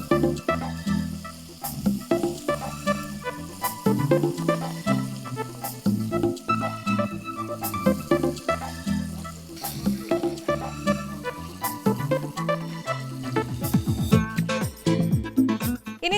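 Chicken pieces fry and get stirred in a pan on a television cookery show, with a continuous sizzle and repeated scraping stirs in an uneven rhythm.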